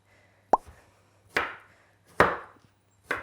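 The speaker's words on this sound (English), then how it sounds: "chop them roughly" A kitchen knife roughly chopping potatoes for hash browns on a board: four separate firm chops, close and crisp, each with a short ringing tail, spaced almost evenly and with no talking.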